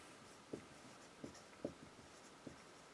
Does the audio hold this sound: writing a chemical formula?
yes